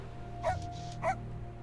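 A stray dog in the steampunk Victorian video game Sovereign Syndicate gives two short barks about half a second apart, over a low, steady background hum.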